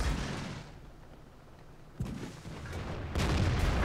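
A tank cannon fires in World of Tanks, sharp booming shots landing at about two seconds and again near three, each with a rumbling tail over steady battle ambience.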